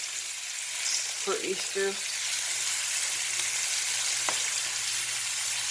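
Short ribs sear and brown in a hot pan with a steady, close sizzle throughout, while a voice briefly speaks near the start.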